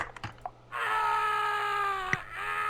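Screaming present item in the game Sacrifice, a shrill sustained tonal scream that sets in after a few soft knocks and holds for nearly two seconds, with a brief click midway.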